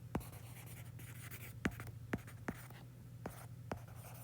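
Pen or chalk writing out physics equations by hand, a quiet, sparse series of sharp taps and scratches over a low steady hum, close but faint, with no speech.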